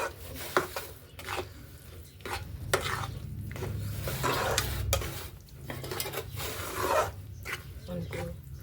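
Sugar being stirred in a pan over a low gas flame while making adadiya sweet: continuous scraping and rasping strokes of the spoon against the pan bottom, steady and close.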